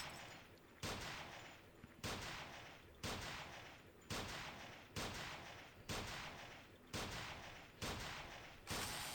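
Gunshots crack at the shooting yard in the video game Sift Heads World, about eight sharp reports in a steady rhythm roughly one second apart, each followed by a short decaying echo, fairly faint and with no talking.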